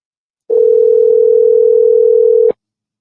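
A single steady telephone ring tone sounds while a call is placed to Henry, one loud continuous buzz held for about two seconds before cutting off, with no voices.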